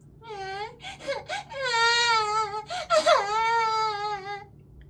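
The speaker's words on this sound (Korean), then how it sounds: "아기는 작은 눈썹과 속눈썹을 살짝 꿈틀거리더니 갑자기 잠에서 깨어나 울음을 터뜨렸다" A baby startled awake breaks into crying, staged as a sound effect in a Korean radio drama: whimpers rising into sustained wailing cries in several breaths, close and clear over a quiet background.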